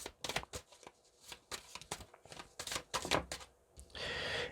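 Tarot cards are drawn and handled up close: a string of crisp slaps, flicks and taps at an uneven pace, ending in a brief riffling shuffle.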